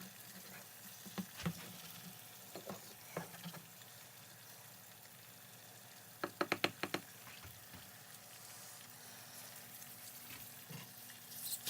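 Eggs fry in a pan for a breakfast sandwich, giving a steady low crackling sizzle throughout, broken by a few brief clinks and a sharp cluster of pan scrapes or taps near the middle.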